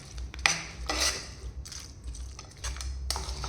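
Roti vegetable lachha is stirred and tossed in a pan, with repeated metallic scrapes and clinks of a utensil against the pan coming in irregular bursts over a low background hum, with no talking.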